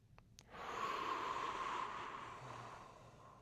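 Slow, controlled breathing paced to a four-count inhale and exhale during a sternum and head flexion-extension exercise: a single long, steady airy breath close to the mic, soft and hissy, with no talking.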